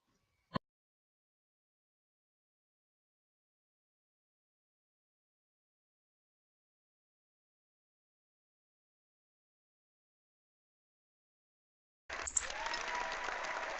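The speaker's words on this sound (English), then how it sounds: "The crowd's going wild." A single sharp click, a long silence, then a crowd cheering and applause sound effect starts abruptly near the end.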